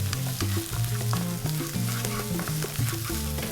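Baby corn being stir-fried dry on full heat, a close, continuous sizzle with repeated rhythmic tossing and scraping in the pan, no voices.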